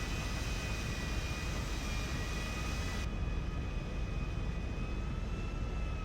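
In GTA V, an airplane taxis toward its hangar, producing a steady, fairly faint engine drone and whine that continues unchanged throughout, with no talk.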